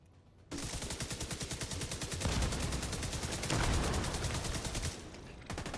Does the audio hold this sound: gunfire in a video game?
yes